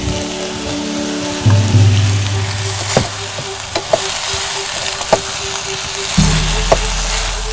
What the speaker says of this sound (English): So I'm putting my beef back into my pot now.